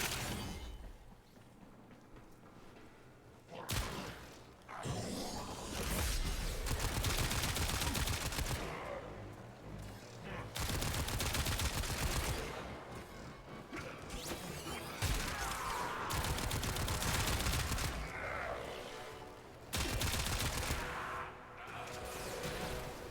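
Queller weapon firing in the video game Warframe during a railjack mission, heard as rapid, loud bursts of gunfire and impacts that continue across the whole stretch, broken by a few brief pauses.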